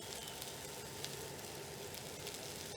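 Garlic dropped into a hot pan with mushrooms, giving a steady, even sizzle of frying close by, with no voices over it.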